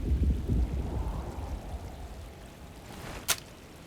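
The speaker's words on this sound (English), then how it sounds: "Looks like a storm's coming." A thunderstorm in the video game Alone in the Dark, with steady heavy rain hissing throughout, a deep rolling rumble at the start, and a sharp crack of thunder near the end.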